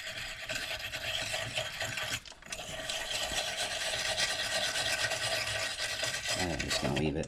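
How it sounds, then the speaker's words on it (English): Steady scratchy rubbing and rasping as salt is scrubbed off a hot forged metal pentacle, continuous and close with a brief pause partway through, no voice over it. "at this point I'm just rubbing off too much salt"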